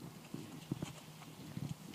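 A horse walks on a circle, its hooves clip-clopping in a soft, uneven rhythm of scattered thuds at moderate distance.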